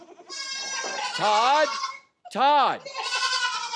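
A goat bleats twice in long, wavering, nasal cries separated by a short gap, loud and close, with a voice briefly speaking.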